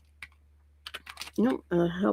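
Keys clatter on a computer keyboard in short bursts of typing during a crafting session, followed by a voice speaking.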